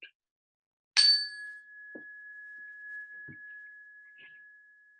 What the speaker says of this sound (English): One strike of this chime, as you listen with your fullest possible attention for the very last trace of this fading sound.